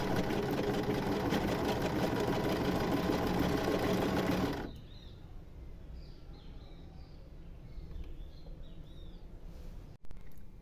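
A sewing machine runs fast and loud for about four and a half seconds, stitching a crocheted bikini bottom lining in place, then stops, leaving quiet room noise with faint birdsong and a single sharp click.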